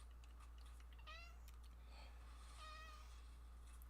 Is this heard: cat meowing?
yes